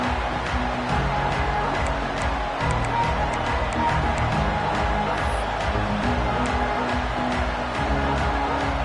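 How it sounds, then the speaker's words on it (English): A stadium crowd roars steadily at a college football game in Utah right after a kickoff, a loud, dense wall of cheering and noise that stays constant throughout without breaks. "This crowd, full throat, spreading the eardrums and letting them know it's going to be a long day."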